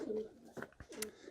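Racing pigeons coo in their loft, a few soft, throaty calls close by, with brief rustling between them and no voices.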